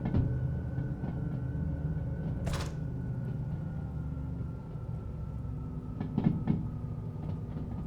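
A long freight train pulled by coupled locomotives on dynamic braking rolls through Derail Valley with a continuous low rumble and drone, a brief hiss burst partway through and clanking wheel clicks near the end.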